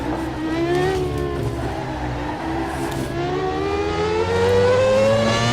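A McLaren MP4/13 Formula One car engine in the racing game rFactor 2 at Indianapolis, a loud, high-pitched whine that rises and falls steadily with revs as the car accelerates, with no voices.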